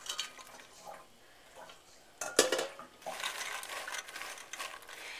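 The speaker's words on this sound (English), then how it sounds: "Then I'm just going to drop them in the pot here." Dry beans dropped into a cooking pot while canning, giving a few light scattered clatters and one sharper clink, followed by a sustained rattling rustle of beans settling against the metal.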